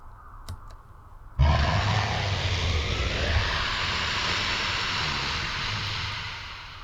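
A sustained, heavy monster roar from the visual novel Chaos;Head Noah, following a brief quiet lead-in and holding loud and steady for several seconds without speech.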